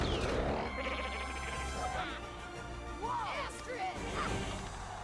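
Sheep bleat repeatedly during a dragon race in an animated film, with wavering cries mixed with crashes and thuds, all under a narrating voice.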